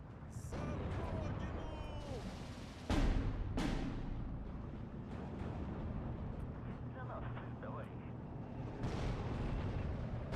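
Heavy artillery fire and explosions in the WWII strategy game Steel Division 2, with booming blasts around three and a half seconds plus later rumbling impacts over a continuous dense battlefield roar.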